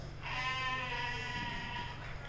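A single drawn-out sheep bleat at a 4-H sheep and goat show ring, moderately close and lasting about two seconds over a low background hum.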